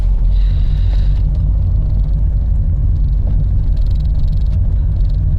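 A car driving along a road in Currie, Edinburgh, during a driving test, heard from inside as a steady low engine and road rumble at a constant, moderate pace with faint higher noise above it.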